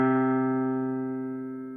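A single sustained C3 note, one octave below middle C, rings steadily with a rich harmonic tone and slowly fades over under two seconds, heard alone.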